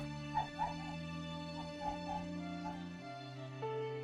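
A dog yips, whimpers and barks in short bursts close to the microphone during a game stream, sustained tonal music playing underneath throughout.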